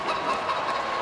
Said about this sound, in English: That's the old Montreal chicken sound.